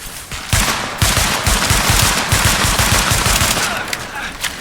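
Rapid automatic gunfire from a Tom Clancy's The Division firefight, loud and sustained with dense rhythmic bursts of shots running nearly the whole time after a brief quieter opening.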